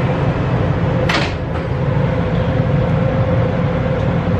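Subway train doors sliding shut with a brief thud among steady rumbling train noise and a constant hum, no talking.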